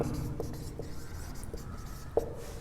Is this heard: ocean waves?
no